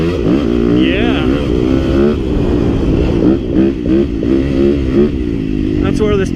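A Yamaha YZ250FX dirt bike engine drones loud and close while it is ridden across sandy desert ground. The pitch rises and falls with throttle changes and the steady buzz carries throughout.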